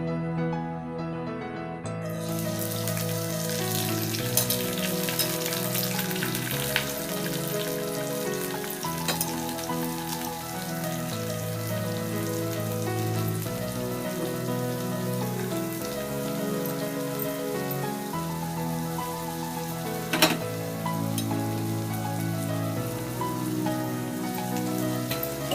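Garlic paste and oil sizzle steadily in a kadai on a lit stove while a curry of amaranth stems and chana dal is started, a dense continuous frying hiss running the whole time beneath tonal background sounds.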